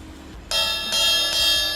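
A jazz crash cymbal is struck three times on its top ridges, each hit giving a bright, ringing, bell-like tone that sustains into the next strike.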